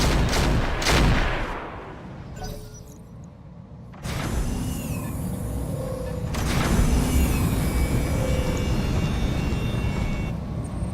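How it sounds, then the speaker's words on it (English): A mech in the RogueTech game firing a full weapons salvo: two loud blasts open, a brief lull follows, then a sustained roaring barrage with whistling tones and further heavy shots. "Firing full salvo."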